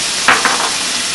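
Fresh squeezed lemon juice hits a hot pan of lemon-butter caper sauce, giving a steady close sizzle with two brief bursts of spattering and stirring near the start.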